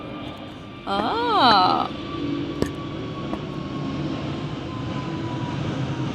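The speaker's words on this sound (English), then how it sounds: "Another plane is going past." A steady airplane drone passes overhead, a broad low rumble that holds throughout at moderate level, with a short voiced vocalisation and a single sharp tap near the start.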